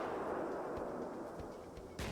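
A DShK heavy machine gun firing in the Arma 3 military game, distant bursts of heavy thuds amid battle noise, with a sharper close crack near the end.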